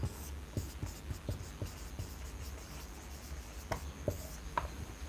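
Marker or chalk tapping and scratching on a board during a chemistry lesson, a quiet series of short clicks and strokes at an uneven pace, with no talking.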